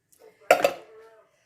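A metal spoon scrapes and clinks against a baking dish with two quick knocks in a brief clatter, close and clear, followed by a short fading ring.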